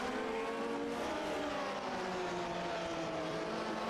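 Vintage Grand Prix Legends race cars at Long Beach in iRacing pass a lapped car, engines whining with rising and falling pitch as they sweep by at moderate distance, steady and unbroken.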